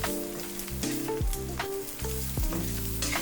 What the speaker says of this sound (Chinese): 然后投入豆干后拌匀